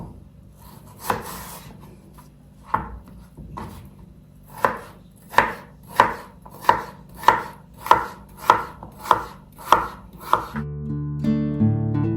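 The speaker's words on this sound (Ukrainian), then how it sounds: "Завжди нею чищу картоплю, моркву, огірки. І тепер їх нарізаю." A knife chops vegetables (potatoes, carrots, cucumbers) on a board in a steady run of about a dozen crisp, sharp strikes. A few slower cuts come first, then the pace picks up.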